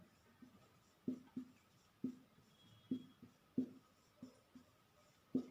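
Chalk tapping and scraping on a classroom board, with sharp, evenly spaced strokes about once a second and quiet room noise between them.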